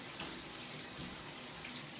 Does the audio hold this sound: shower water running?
yes